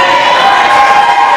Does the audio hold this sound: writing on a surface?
no